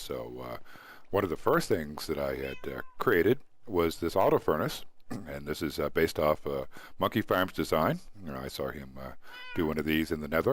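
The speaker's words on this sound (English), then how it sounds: "You can hear my cats in the background here." Pet cats meowing faintly in the background, almost buried under a man's steady, continuous talk.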